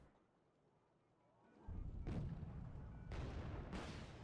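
Artillery fire in the Wargame: Red Dragon strategy game, a rumbling roar building after a quiet start, then several deep booming impacts in sequence.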